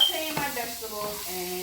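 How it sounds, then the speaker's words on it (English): Vegetables sautéing in a pan on a fast-cooking burner give a constant sizzling hiss, with brief stirring scrapes and a voice talking over the frying. "I'm sauteing my vegetables"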